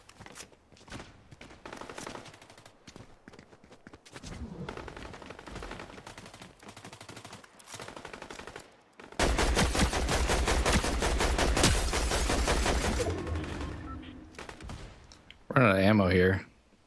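Bursts of rapid gunfire from the Fortnite battle royale, with scattered shots early and then a loud, sustained automatic volley in the middle. A person talks between and over the shooting.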